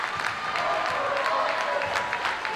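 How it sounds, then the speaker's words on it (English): Fans of the hometown Kennett Indians applaud and cheer in a high school basketball gym, a steady wash of clapping and crowd noise with a commentator's voice over it. "The crowd's coming alive. Those Kennett Indian fans acknowledging the performance of their hometown team tonight."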